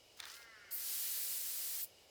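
A sprayer in the horror game Spirit Hunter: Death Mark fires with a brief hiss, then a loud, steady rush of spray lasting about a second before it cuts off sharply.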